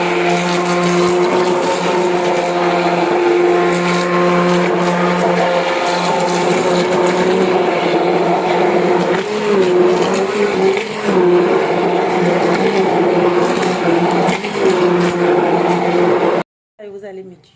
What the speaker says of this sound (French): Je vais mettre le mixeur maintenant.